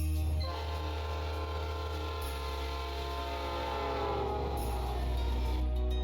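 A train in the Pokemon Reborn video game rumbles steadily with a low sustained drone and layered horn-like tones, continuous and fairly loud throughout, shifting slightly in pitch partway and near the end, with no talking.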